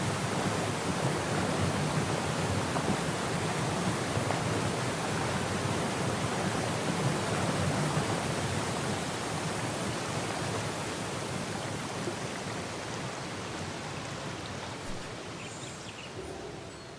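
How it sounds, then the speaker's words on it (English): Dense, constant roar of water spilling down a waterfall under an arch bridge in an Alpine setting in the video game Syberia: The World Before, loud and unbroken, easing off slightly toward the end with no voices. "The arch bridge with the waterfall"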